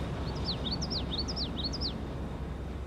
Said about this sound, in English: Birds are a natural enemy for any aircraft, and they are currently flocking to the Queen Elizabeth, an ideal ocean perch.